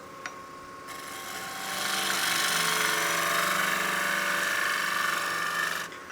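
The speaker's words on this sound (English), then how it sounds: "The reason I'm dragging this cut across, it is a scrape, but I'm cutting into side grain." A wood-turning gouge drags a scraping cut across the side grain of a spinning wood platter, making a steady, fairly loud, hissing scrape that swells after the start and holds for several seconds close by.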